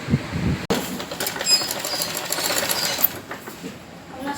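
An electric sewing machine stitches a fabric strip onto a blouse neckline with a continuous fast whirring rattle, close and steady, briefly pausing near the start before running on.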